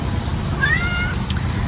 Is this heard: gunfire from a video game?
no